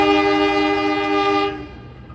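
Sri Tanjung economy-class train departing Purwosari station, a loud, close, sustained horn blast that holds steady, then cuts off and leaves a fading rumble.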